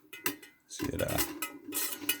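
A hand-cranked popcorn maker's pinion gear stirrer rattles and clanks in quick metallic bursts, close up and alone.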